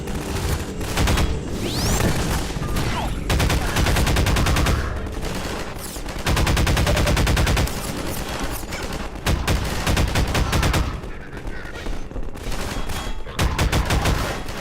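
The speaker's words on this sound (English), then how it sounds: "firing the gun the way I just did, where it's like you kind of click a little bit instead of just holding" Rapid bursts of gunfire from a gun in Half-Life 2, loud and close, fired in short clicked volleys with brief gaps, layered over dense game action and booms.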